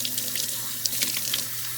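Kitchen tap water running steadily into a cup to rinse it out, a continuous close splashing stream with small irregular spatters, no talking.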